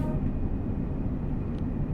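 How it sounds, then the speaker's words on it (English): A cargo train in Train Sim World 6 on the Devon coastline line from Plymouth to Exeter, a loud, steady low rumble and rattle of wagons rolling past close by, with no talk over it. "That is another cargo train!"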